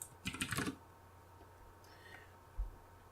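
A command typed on a computer keyboard: a quick burst of clattering keystrokes early on, then quiet with a couple of faint isolated taps and a soft thump near the end.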